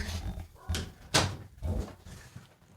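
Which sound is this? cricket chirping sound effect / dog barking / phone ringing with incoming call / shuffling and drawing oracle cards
dog barking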